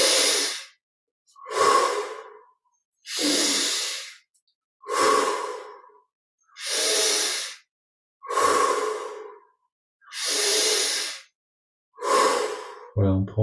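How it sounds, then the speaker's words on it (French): Deep, slow breathing while holding a posture: air drawn in through the nose and let out through the mouth, about eight long, evenly spaced breaths, close and alone with silence between them. "Inspire par le nez, dans cette posture, expire par la bouche."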